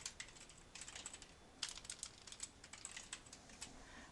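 Quick, uneven clicking of fingers typing a short message on a computer keyboard, a steady run of light keystrokes with small pauses, close and fairly quiet with no voices.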